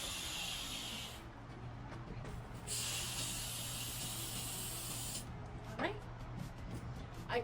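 An electric air pump inflating balloons, two sustained hissing bursts of air separated by a short pause, close and fairly loud, with handling noise afterward.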